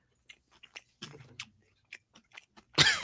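Someone chews spicy chutney close to the microphone, with scattered soft, wet mouth clicks and smacks ending in a louder crunchy burst.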